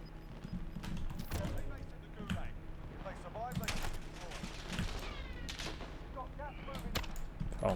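Sniper rifle shots ring out in a Call of Duty Warzone battle royale match, several sharp cracks scattered across a noisy mix of game sounds, with a player talking over them.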